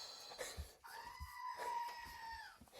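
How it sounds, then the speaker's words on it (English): Screaming Goat toy letting out a loud, drawn-out bleating scream, close and nasal, with brief rustles and bumps around it. "Oh, the Screaming Goat, of course."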